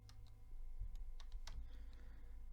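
Quiet, sparse keystrokes on a computer keyboard as CSS code is typed, a few soft clicks over a low steady hum, no voice.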